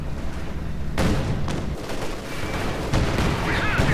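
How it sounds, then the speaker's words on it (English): A Soviet T-70 tank is hit by fire from a Panzer IV and other German units in Company of Heroes 2: loud, booming cannon blasts and explosions arrive in heavy bursts over constant battle rumble. "T-70 tank here in dire straits is getting blasted by both Panzer IV and a pack"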